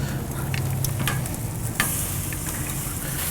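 Chicken sizzles steadily on a Kamado Joe grill, a close, dense crackling hiss with a few sharp pops and clicks as the pieces are turned.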